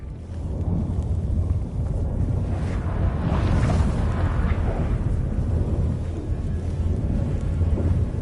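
Storm in The Witcher 3: Wild Hunt, with a heavy, continuous rumble of thunder, rain and gusting wind filling the scene, loud and sustained without a break.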